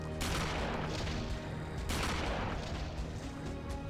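Gunfire in the GameCube game Eternal Darkness: two heavy, booming shots about two seconds apart, each with a rough, rumbling decay, over a constant loud background with no talk.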